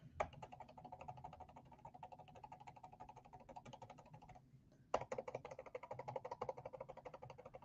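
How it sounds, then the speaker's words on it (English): Rapid, rhythmic clicking of arrow keys pressed repeatedly on a computer keyboard, a quiet, close series of taps with a brief pause midway before the tapping resumes. "I'm just using the arrow keys on my keyboard"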